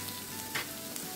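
Chili peppers fry with curry leaves in a pan, making a faint, steady sizzle with a soft crackle or two, heard alone and without talking.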